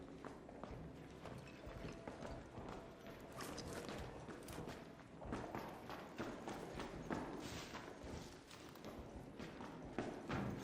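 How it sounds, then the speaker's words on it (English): Heavy footsteps stomp up stairs in the Arc Raiders video game, a steady run of dull thuds and clacks over a constant background bed, fairly quiet and continuous. "He's gonna hear me stomping up there."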